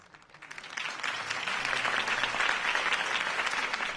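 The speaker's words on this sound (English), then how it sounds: "If only Mr. Wayne, my campaign's largest backer, could have heard that applause" A crowd in the video game Telltale Batman bursts into applause, starting quietly and swelling into sustained, loud clapping and cheering that carries on steadily.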